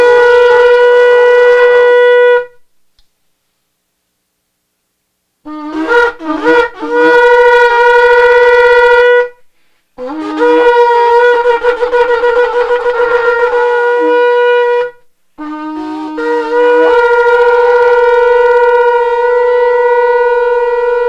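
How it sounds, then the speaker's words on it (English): A shofar sounded at a Sabbath service gives three long, loud, brassy blasts close by, each opening with a wavering, broken attack and then holding steady, separated by short silences. "commanded us to hear the sound of the shofars"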